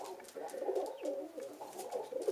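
Pigeons coo in a steady, throaty murmur, several birds close by with overlapping soft rolling calls throughout, no talk.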